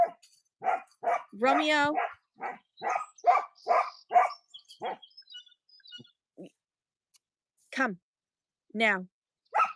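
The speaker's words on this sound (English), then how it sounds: "he has to bark at it" A pet dog barks at his toy indoors, a run of sharp, close, loud barks with a yelp-like whine in between, then a pause and a few more barks, while someone briefly speaks.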